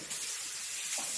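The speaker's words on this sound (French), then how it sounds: "Je passe juste les mains sous l'eau et je reviens." Hands rinsed under a running kitchen tap while an apple tart is being made, a steady, close, even rush of water with no talk.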